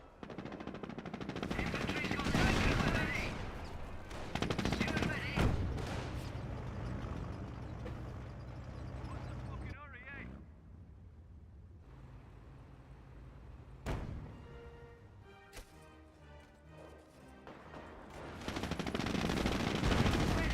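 Machine-gun and rifle fire from a Company of Heroes battle rattles in repeated bursts with occasional heavier blasts, loud at the start and end with a quieter lull in the middle, under intermittent game sounds.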